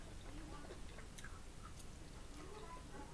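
Someone chews a forkful of homemade buffalo mac and cheese mixed with broccoli, with soft, quiet, close-up mouth sounds under steady background noise.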